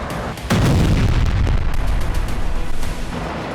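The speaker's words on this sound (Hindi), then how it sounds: "हूती ने इस मिसाइल को फायर कर अपनी शक्ति का प्रदर्शन कर दिया है।" A Houthi Palestine missile launches with a sudden heavy roaring blast that holds as a loud, broad rumble for several seconds, with no voices.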